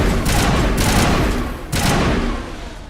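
Heavy sci-fi combat gunfire from the video game Mass Effect 1, dense overlapping shots and booming blasts in a loud, continuous wash with a couple of sharper bursts standing out.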